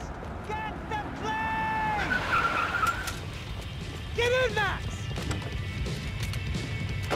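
Tires screech and skid in Max Payne 3 across a noisy engine roar, with a second squeal midway, loud and close amid continuous traffic-like rumble.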